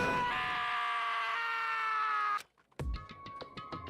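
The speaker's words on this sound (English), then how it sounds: "Taka's sad scream invaded our skulls" Taka, a character in the video game Danganronpa: Trigger Happy Havoc, lets out a long, anguished scream that holds steady for a couple of seconds and cuts off abruptly. Game sound effects follow.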